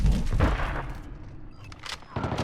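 Suppressed gunfire in the video game Call of Duty Modern Warfare 2, a quick burst of muffled thumping shots early on and a couple more near the end, amid dense battle ambience and radio-style voices.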